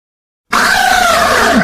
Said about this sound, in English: That shrieking voice you just heard is the lovely Blarkbarg, my assistant